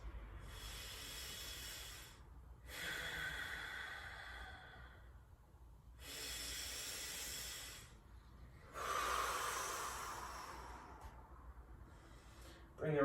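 Deep, slow breaths during a yoga session, three long airy exhales and inhales spaced a few seconds apart, close and soft, with no talk.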